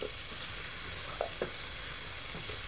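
Diced potatoes and fenugreek leaves frying in a pan, a soft steady sizzle with a couple of faint stirring clinks, quiet and close.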